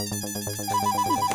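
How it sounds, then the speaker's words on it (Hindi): A mobile phone rings at night with a repeating electronic ringtone melody, its bright tones pulsing steadily and close, with no voices over it. "ये रात को किसका फोन है?"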